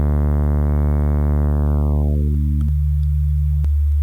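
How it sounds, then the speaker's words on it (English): A synthesizer in Ableton Live 11 holds a low D note near 72 Hz, first buzzy and harmonically rich, then smoothing into a pure sine tone as the upper harmonics are filtered away, steady and loud with two brief clicks. "Sine wave. So I'm playing right now a D note. I'm playing D at 72 hertz"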